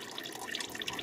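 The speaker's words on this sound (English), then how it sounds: "let's loosen this and see where our oil is going to want to drip from" Motor oil dripping from the loosened oil filter of a 2018 Ford F-150 3.5 EcoBoost during an oil change, a soft, irregular patter of small liquid drips close by.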